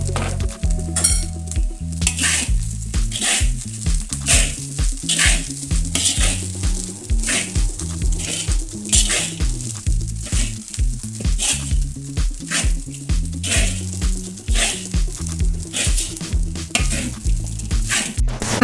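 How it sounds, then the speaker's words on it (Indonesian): Rice is stir-fried with fried shallots and egg over low heat, giving a steady sizzle under repeated rhythmic scrapes and clinks of a spatula against the pan, loud and close with no talking. "Kita masak dengan api kecil ya Bunda, sambil dikoreksi rasa juga."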